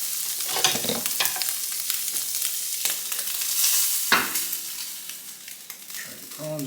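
Fried rice with prawns sizzling hard in a pan on high heat, a continuous hiss broken by scraping stirs and clanks of the utensil against the pan, close and moderately loud.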